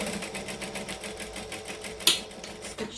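A sewing machine stitches a hobo bag in a quick, steady run of close, rattling stitches, then gives a brief sharp clack before slowing for the back stitch.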